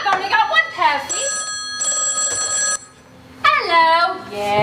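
A telephone rings in a stage farce with repeated electronic trilling bursts, loud and close, while a voice speaks in between and over the rings.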